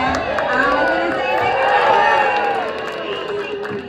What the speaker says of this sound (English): Give him a great big cheer so he jumps up there.